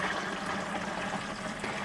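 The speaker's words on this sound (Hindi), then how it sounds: "थोड़ा पानी डालना है" Water is poured into an agricultural spray tank before shampoo is mixed in for crop use, making a steady, close rushing and splashing with no talk over it.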